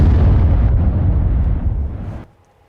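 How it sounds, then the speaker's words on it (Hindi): A missile strike explosion caught on CCTV: one loud, heavy roaring blast that fills the first two seconds with deep rumble, then cuts off abruptly into near silence. "देखिए ये धमाका जैसे ही होता है"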